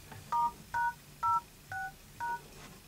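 Keypad tones from an Android i9220 MT6575 phone dialing a code to display its IMEI: five distinct beeps at an even pace, clear over a faint background hum.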